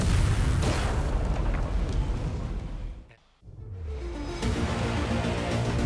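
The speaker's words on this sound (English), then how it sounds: "And a big EMP boom coming up." An EMP detonation in Watch Dogs Legion in a London setting, a loud sustained roaring boom that dips briefly into near silence, then surges back with a deep rumbling wash and a falling whine.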